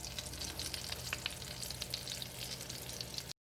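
Cream-cheese-stuffed French toast slices sizzle steadily in a hot pan, a dense close crackle with scattered pops, continuing alone before cutting off abruptly.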